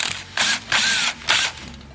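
A T27 Torx driver turns out a screw on a Stihl MS-211 chainsaw, making three short close-up ratcheting clicks in quick bursts, alone without talk.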